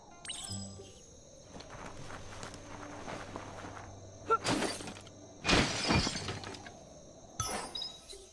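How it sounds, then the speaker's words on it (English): A box smashes apart in the video game Biomutant, sharp shattering bursts breaking out in quick separate crashes amid light footsteps and quiet game ambience. "You shouldn't worry about smashing up the box."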